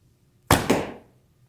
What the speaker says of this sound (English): the arrows are flying a lot more true now